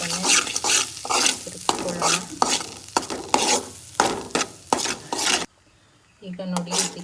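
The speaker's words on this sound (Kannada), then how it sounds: "ಆ್ಯಡ್ ಮಾಡಿ ಸ್ವಲ್ಪನೇ ತಿರುಗಿಸ್ಕೊಳ್ಳೋಣ" Maida flour stirred into melted oil in a pan for village-style desi pasta, a steady sizzle with repeated scraping strokes of a spoon, close and loud, with a brief pause near the end.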